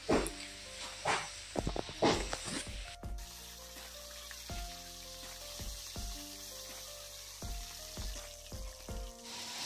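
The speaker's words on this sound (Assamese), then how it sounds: "প্ৰথমতে মাছখিনি ফ্ৰাই কৰি লওঁ" Fish pieces fry in a pan for a sour fish curry, a faint steady sizzle beneath loud clattering bangs early on, then regular sharp knocks and clinks of utensils against the pan.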